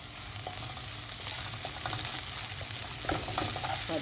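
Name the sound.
garlic and pepper strips sautéing in oil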